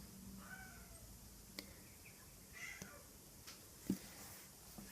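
A cat meows faintly in the background a few times, with one short, sharper cry standing out above a quiet room hiss.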